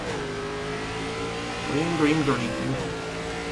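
ARCA race cars in iRacing at Lime Rock Park roar as the field accelerates at the race start, a steady engine drone rising with revving harmonics in the middle, while a spotter's voice calls out over it.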